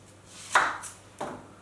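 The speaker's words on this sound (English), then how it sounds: "You cut up onion." An onion for meatballs is chopped with a knife on a board, two crisp chops about half a second apart, close and clear with no talking.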